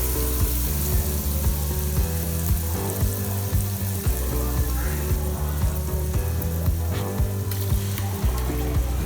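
Spice masala for a Kerala-style fish curry fries steadily in a pan, a dense continuous sizzle with occasional stirring scrapes. A low hum runs under it and no one speaks.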